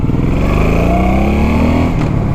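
A Suzuki C90 Boss motorcycle accelerates in first gear, its engine note rising steadily and loud and close throughout, with no talking.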